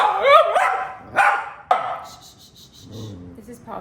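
Dogs at home, including a foster puppy, barking in several sharp, close bursts over the first two seconds, followed by quieter yips and rustling, with a voice faintly mixed underneath.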